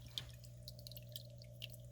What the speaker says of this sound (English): the noise of the water fountain there